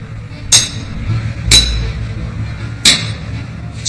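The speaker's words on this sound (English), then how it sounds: "It's great to see these guys whacking away with these big hammers, the explosive force that they're using to drive in these great big spikes" Three sharp, ringing metallic strikes of big hammers driving great spikes through planks into the frames of a wooden ship, spaced about a second apart over a low background rumble.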